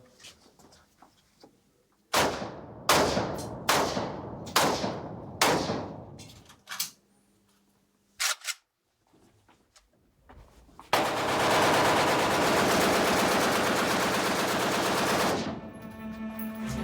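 Zastava Kalashnikov-type assault rifles with 30-round magazines of 7.62 calibre fire in a test: a few separate loud cracking shots, then a long sustained burst of automatic fire, with sharp reports and brief silences between them.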